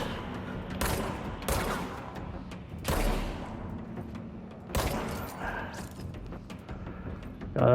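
Gunfire in the video game Control: several loud, sharp shots crack out at irregular intervals, each with a booming low thump and a short reverberant tail, over a steady background hum.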